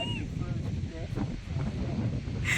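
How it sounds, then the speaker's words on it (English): Wind blowing outdoors in Alaska near a cliff edge, a steady broadband rush buffeting the microphone throughout, with faint birdlike chirps and a brief rustle near the end. "The wind's blowing that way."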